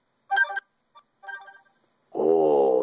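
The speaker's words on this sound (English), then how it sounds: "Oh, that was a text message." A Droid Bionic phone chirps a text message notification: two short beeping bursts separated by a pause, then a louder sustained buzzy tone at the end, close and clear with no speech.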